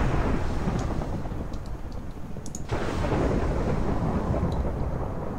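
Thunder from a Blood Magic lightning spell cast with glowstone in modded Minecraft FTB, continuous loud rumbling with a fresh crack partway through that sets off another sustained roar.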